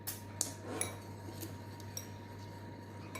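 A spoon clinks against a bowl while melted butter is stirred into honey Smarties cookie dough, a few light metallic taps over a steady low hum, close and quiet.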